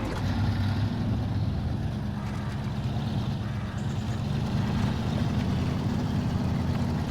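A truck in the SnowRunner video game grinds along in low gear with diff lock engaged, a steady, loud, rumbling engine drone that holds constant throughout.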